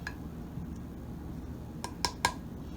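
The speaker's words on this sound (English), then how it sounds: "I'm going to take my mayonnaise bowl and I'm going to put my tuna inside" Tuna goes into a bowl of mayonnaise during sandwich prep, with faint quiet handling followed by two or three sharp clinks of a utensil against the bowl near the end.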